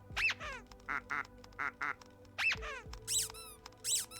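A plastic duck in the video game Linkito quacks repeatedly in short clustered bursts. High sweeping squeaks and a few deeper dropping tones are mixed in, close and prominent.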